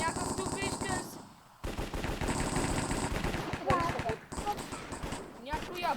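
Rapid bursts of video-game gunfire crackle through a Minecraft Hypixel match, dense and loud with a brief lull, while a voice talks over much of it.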